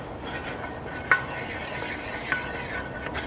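A utensil stirs a flour-and-butter roux cooking in a pan, soft scraping strokes over a faint steady sizzle, with a couple of light clinks against the pan and no talk.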